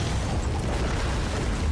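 Computers blow up in Batman: Arkham Origins, a dense, loud burst of explosive roar and crackling debris that fills the whole short stretch without letting up.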